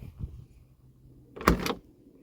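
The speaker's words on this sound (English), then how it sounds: "Gotta love these proper clunky doors" A 1970 Fiat 500L Lusso door shuts with a single solid clunk, close and fairly loud, after a few faint small handling noises.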